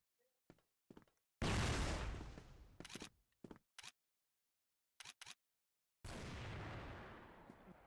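Video game explosions in CrossFire: sharp booming blasts and bursts of gunfire-like cracks erupt in separate bursts, with two long rumbling explosions and quiet gaps between.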